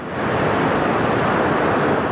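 Ocean surf at a state park pier, a loud continuous roar of breaking waves mixed with wind buffeting, steady and unbroken with no voices.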